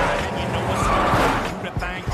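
Cheese delivery car being forced to stop, tires skidding and screeching loudly amid dense road noise, with a voice talking over it.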